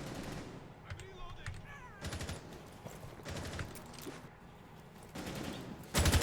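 Several bursts of automatic gunfire rattle out during a competitive Rainbow Six Siege match, moderately loud and clustered in short volleys, while a caster keeps commentating over them.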